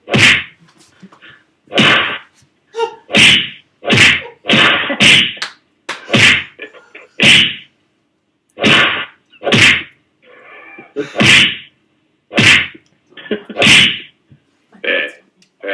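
A rapid series of sharp, loud smacks repeats irregularly for about fifteen seconds, some coming in quick pairs, each a crisp whack-like hit with silence in between.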